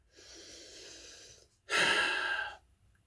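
Two breaths: a softer, longer inhale followed by a louder, sharper breath, close and alone with no talk.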